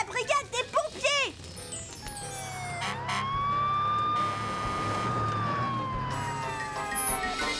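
Cartoon fire brigade siren in Strawberry Shortcake: a single wailing tone that rises and holds before sliding down, loud and close, after a few quick chirpy sounds at the start.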